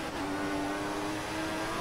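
F1 car engine in the F1 2014 racing game, a steady high-pitched whine held at speed throughout, loud and close with no talk over it.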